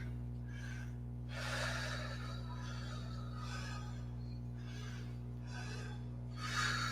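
Soft breathing during a balancing yoga pose, with several gentle breaths in and out, evenly paced and close, over a steady low hum.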